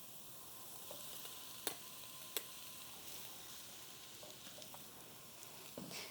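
Ground beef sizzles and browns in a pan with a steady, soft hiss, broken by a few sharp crackles and spatters, no talk.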